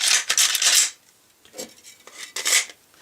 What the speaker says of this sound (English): let's go ahead and reassemble the pistol